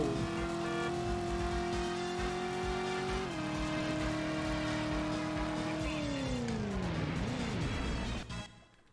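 Car driving in the PS1 game Driver: a steady, loud engine drone holds a constant pitch, shifts briefly, then slides down as the car slows, ending in a short fade.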